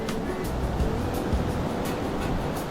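Ocean surf rolls onto the Myrtle Beach shore with a continuous, broad wash of breaking waves and low rumble, loud and close, with rhythmic surges of spray.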